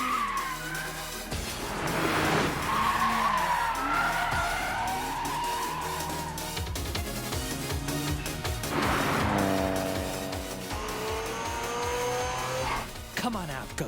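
Cars drift with squealing tyres and revving engines during a downhill mountain race, two long skid passes swelling and fading with engine pitch sweeps, and a voice speaks briefly between them.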